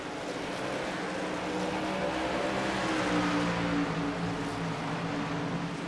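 Stock cars racing in the iRacing simulator, a loud, steady engine drone from a pack of cars that continues without a break and holds close, with no voices.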